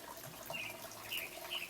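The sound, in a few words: flowing water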